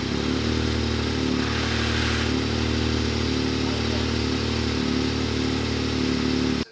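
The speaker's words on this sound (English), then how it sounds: "like the real weird grinding noise for just a couple seconds" An engine first started after an oil change runs loud and close with a harsh, steady mechanical drone and a rough grinding edge, holding for several seconds before cutting off abruptly.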